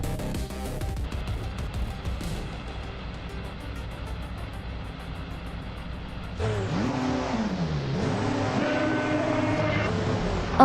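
Engines of race cars in a video game roar and then rev up as the race starts on the Must-Do-Clos short loop, a steady drone that swells louder and shifts in pitch partway through.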